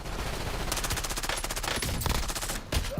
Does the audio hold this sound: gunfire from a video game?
yes